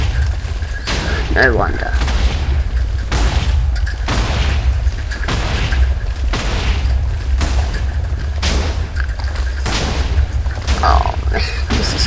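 A long chain of Minecraft TNT explosions booms in rapid succession, heavy repeated blasts every half second or so with a continuous rumbling low end, while a voice speaks briefly in between.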